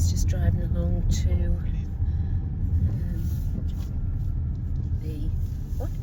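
Steady low rumble of a car driving along a road in Portinscale in the Lake District, heard from inside the cabin, with people talking over the engine drone throughout.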